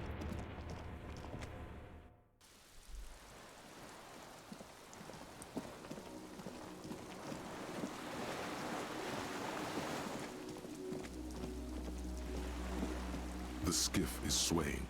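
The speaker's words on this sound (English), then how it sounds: "The skiff is swaying on the waves by the dock." Water sways and laps against a dock beneath a skiff in Disco Elysium, a steady wash of surf and splashing that swells louder toward the end, with a voice speaking over part of it.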